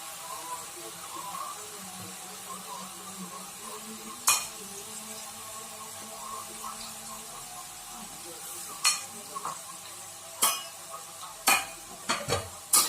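Garlic fries in hot oil over a medium flame for garlic oil, giving a steady low sizzle and hiss, with a spoon scraping and clinking against the pan now and then, more often toward the end.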